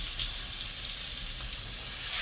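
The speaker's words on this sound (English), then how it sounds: "first we're gonna fry the pork chops" Pork chops fry in a pan with a steady, close crackling sizzle that swells slightly toward the end, with no voices over it.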